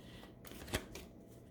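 Sacred vision oracle cards being shuffled, a soft papery riffle that swells to one brief sharper snap near the middle of a short quiet moment.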